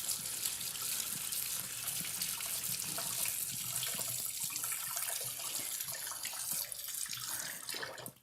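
Running tap water pouring over a lemon at a kitchen sink, a steady hissing splash that holds evenly and cuts off at the end, no talking.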